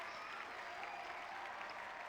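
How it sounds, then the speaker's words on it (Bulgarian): A crowd applauds in the video game GTA 5, a dense, continuous patter of clapping heard at a low level for a couple of seconds, with no talk over it. "Пляскат за него."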